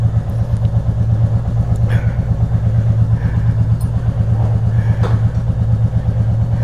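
A warmed-up motorcycle engine runs close and loud with a steady, throbbing idle that holds even as the rider moves off, with no voices over it.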